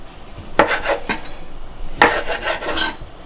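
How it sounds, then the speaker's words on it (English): A knife slices through a Hillshire andouille sausage on a slant on a cutting board. Two clear strokes make a rasping cut each time, close and fairly loud, with no talking. "we're going to work on cutting up our andouille sausages"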